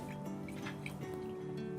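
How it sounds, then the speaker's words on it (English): Clementine juice drizzles into vinegar for a dressing, a short close trickle of liquid with soft drips over a low steady hum. "We'll take a drizzle of clementine, top that up with some lovely vinegar"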